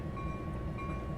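An Amtrak P42 locomotive in a Railworks train simulator game gives a brief, steady, low rumble with a faint tonal hum and no talk over it.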